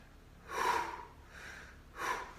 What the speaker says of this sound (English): Breathe in, belly out. Out, belly in.